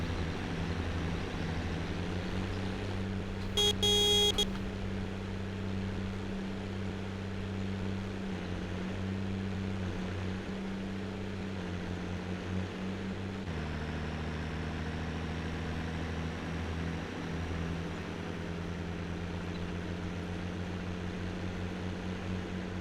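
Tractor engine in the farming game Cattle and Crops, pulling in second gear: a steady, loud low drone that holds throughout, with a brief tonal blip early and a slight shift in pitch partway through.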